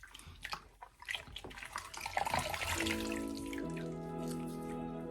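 A shaving brush used for straight razor shaving is rinsed under a running tap. Wet splashing and dripping come first, then a steady stream of water, close and clear with no talking.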